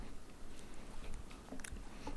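Dawn bites and chews crunchy food up close, producing faint, irregular crackling bites and crunches over low background noise.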